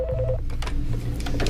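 Telephone in Washington, D.C. for former U.S. Marshal Art Roderick, producing a steady electronic ringing and dial-like tones under a low hum, loud and close, with no voices.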